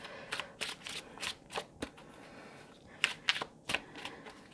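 Rebel Deck oracle cards are shuffled in a series of quick, crisp riffling bursts at close range, separated by short pauses, with no talking.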